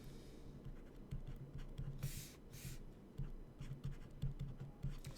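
Marker writing on a board during a worked integration by parts example, a steady scratchy squeak in short strokes with brief pauses, fairly quiet and continuous for several seconds, no talking.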